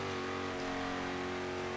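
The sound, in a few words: Koenigsegg One:1 engine revving in Forza Horizon 3 video game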